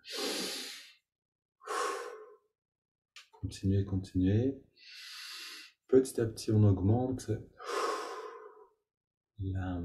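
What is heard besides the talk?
deep breathing during a breathing exercise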